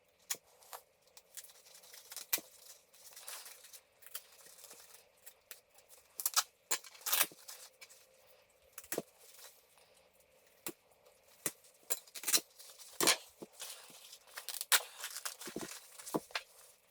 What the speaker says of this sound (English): I'm actually just going to cut around the top of here and take the Gore-Tex sock out